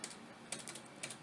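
Computer keyboard typing during a Linux command-line session, a quick run of crisp key clicks in small bursts, close and fairly quiet, with no voices.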